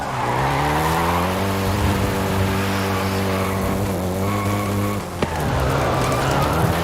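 Volkswagen Golf GTI driven in Forza Horizon 5, with a steady, loud engine drone whose pitch climbs as it accelerates, then a brief tire squeal near the end before the drone resumes.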